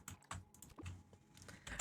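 Faint computer keyboard clicking comes in quick irregular clusters of key presses, close-miked but quiet, with no voices.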